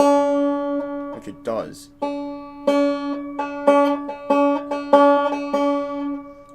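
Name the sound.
banjo string plucked, 2nd string at 3rd fret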